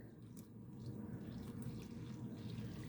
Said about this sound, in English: going to add about 350 millilitres of warm water, not too hot